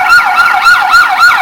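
An ambulance siren wails up and down in rapid, repeating sweeps, loud and close, with no voices over it.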